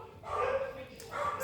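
Dogs barking indoors in a few quick, yipping bursts that are fairly close and moderately loud, with a short gap between them.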